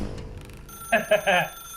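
In the video game The Stanley Parable, a telephone rings in three quick bright trills after a moment of low ambient hum, loud and close with nothing else over it.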